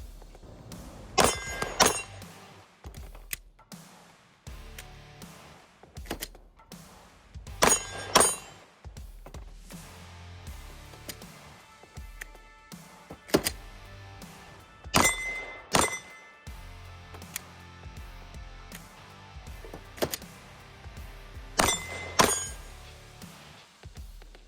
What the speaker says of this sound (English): we're banging it on the table